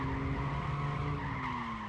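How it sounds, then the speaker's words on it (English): In a driving video game, a car slides into a corner under the handbrake, giving a steady, close tire squeal and skid over a constant engine drone that shifts slightly in pitch. "even with the handbrake, you can slide this thing all the way into a corner"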